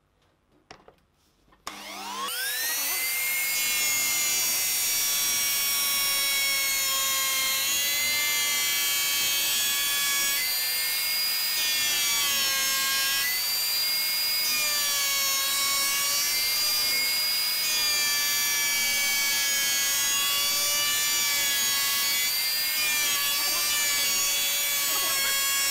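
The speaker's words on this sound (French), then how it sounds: "Là vous entendez que la défonceuse." A wood router roars steadily while cutting a cavity in an electric bass body, a loud sustained whine that starts abruptly after a quiet moment and wavers in pitch as the bit bites into the wood.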